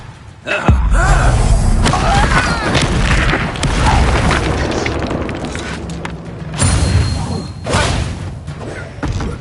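Incendio fire spell bursting in a Hogwarts Legacy duel, a sudden loud boom followed by rumbling, crackling blasts and further thuds across the fight, with brief voices mixed in.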